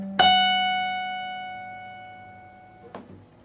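A single picked note on the 14th fret of an electric guitar's high E string, bent upward slowly and left to ring and fade, with a soft second pluck near the end.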